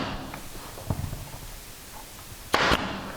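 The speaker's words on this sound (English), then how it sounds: "I can even stitch this thing together with this nail gun all the way down to the lower miter" A nail gun fires into crown molding: a soft tap, then one loud, close, sharp burst of air and impact near the end, with quiet room tone around it and no talking.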